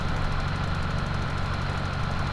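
A tractor engine runs steadily in Farming Simulator 17 with a low, continuous idling rumble and faint knocking texture throughout, no voices over it.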